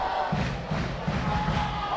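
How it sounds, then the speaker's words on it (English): A high school football crowd roars steadily in a packed stadium after a kick, a dense sustained wash of voices with rhythmic low thumps or chants pulsing underneath, loud and continuous throughout. "The crowd is turning it up."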